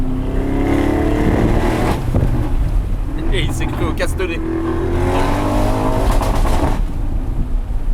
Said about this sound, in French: Ah, le son du V8 il est incroyable quand même.